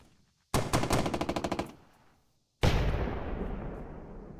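In a tank video game, a rapid machine-gun burst rattles off about a dozen evenly spaced shots. After a pause, one heavy cannon blast booms and rolls away in a long, fading rumble.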